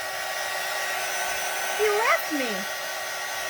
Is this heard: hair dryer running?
yes